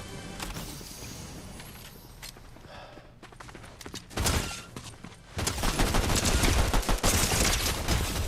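Rapid bursts of gunfire in the game Fortnite, with dense overlapping shots that build into a loud, sustained volley in the second half; there is no talk.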